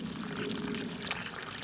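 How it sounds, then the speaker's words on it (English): Water pours steadily into a freshly dug mailbox post hole, a close, continuous splashing trickle outdoors with no one talking. "it doesn't hurt just to keep pouring the water in there"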